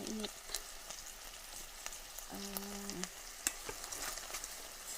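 Chicken frying and sizzling in oil inside a rice cooker, a steady crackling hiss with scattered pops and brief stirring sounds running throughout, close and moderately loud, with no one speaking.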